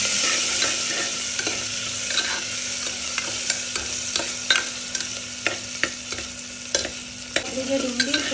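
Rice with finely chopped onion and potato is stirred and fried in a pan for masala khichdi, giving a continuous sizzle with frequent scraping clicks of the spoon, close and steady, with no talking.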